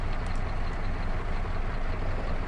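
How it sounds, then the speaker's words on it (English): A farm tractor engine idling nearby, a steady, dense, low rumble that holds at an even level throughout, with no talking. "I'll just leave the tractor right over here for a second"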